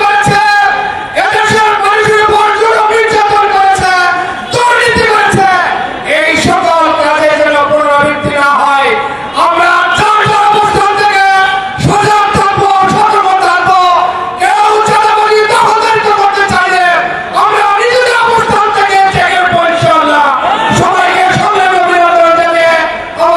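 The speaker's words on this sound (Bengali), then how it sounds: "তারা কিন্তু আসলে বিভিন্ন ধরনের স্লোগান দিচ্ছেন" Crowd at a rally in Shahbag, Dhaka, chanting slogans in loud, rhythmic unison, with massed voices that stay close and dense throughout.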